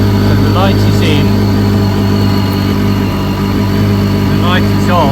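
A BMW K1300S motorcycle engine idles nearby in a steady, loud, even hum, while someone talks over it.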